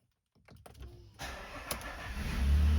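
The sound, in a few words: Nissan Frontier engine starting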